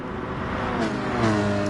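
Race car engine droning steadily as a car drives into the hairpin at the Nürburgring GP in a Cayman Cup sim racing game, a continuous loud tone with slight pitch shifts as it brakes and accelerates.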